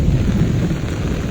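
Thunder rumbles low and heavy through steady, loud rain falling during an outdoor rainstorm among fruit trees, a dense continuous roar with no voices.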